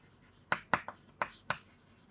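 Chalk or marker taps and strokes on a board during a chemistry lesson, five short crisp scratches in an uneven rhythm, close and fairly quiet with no talking.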